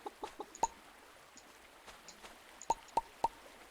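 Chickens clucking in the farming video game Pumpkin Days: a few short, sharp clucks scattered across a quiet background, with a tight cluster of three near the end.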